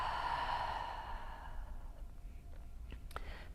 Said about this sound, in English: Take a deep inhale, open your mouth and exhale